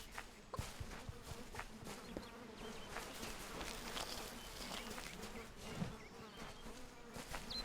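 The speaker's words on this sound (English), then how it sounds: "Mosquitos." Mosquitoes in the video game Kingdoms of Amalur give off a continuous whining buzz, several insects droning together at moderate volume over faint background game ambience.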